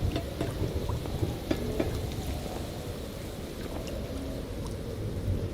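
Steady rain from a storm in the Minecraft video game, a soft continuous patter with scattered droplet ticks at moderate to low volume and no talking.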